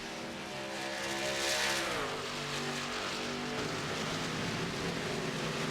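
Race truck engines in the video game iRacing, a steady roaring drone with a rising then falling pitch as the trucks drag race down the back straightaway, no voices.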